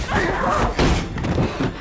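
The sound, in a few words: door slammed shut in film scene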